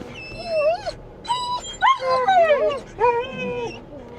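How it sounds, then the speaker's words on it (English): A pack of dogs in a moving bus whines, yips and barks excitedly in bursts after spotting another dog on the road, high-pitched and close over a low road rumble. "they saw a dog while we were driving down the road, so the whole pack is up in arms back there"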